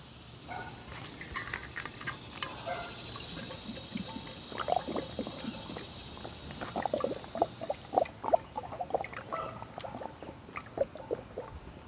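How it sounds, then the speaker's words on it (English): Water is poured, a soft trickling and splashing that grows busier and louder toward the end, with small clinks and drips standing out over a quiet room. "Let me get some water here"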